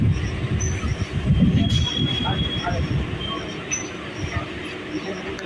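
A local train rolls into Kolaghat station, wheels rumbling loud and close with thin metallic squeals riding over the clatter, as the train slows along the platform.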